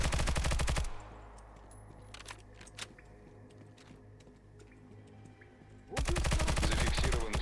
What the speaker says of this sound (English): now you can kill the machine gunner once you're on his backside